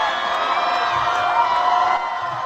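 A crowd cheers at an outdoor rally in Pennsylvania, a loud, dense, continuous roar of voices and whoops carrying on without pause.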